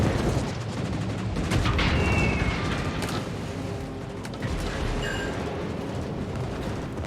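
Warship guns in a naval combat game boom and rumble through a heavy, continuous barrage, with several sharper blasts and brief tonal whines rising over the steady roar of battle.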